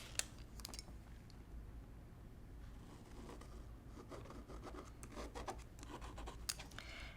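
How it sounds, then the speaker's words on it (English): Pen drawn across quilt fabric, a faint, steady scratchy rubbing that continues throughout, with small taps and scrapes, close and quiet. "I'm going to draw a line from corner to corner."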